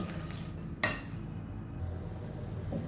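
A utensil scrapes and stirs corn flour batter in a bowl with quiet rubbing sounds and one sharp clink against the side, close up in a calm kitchen, with no talking.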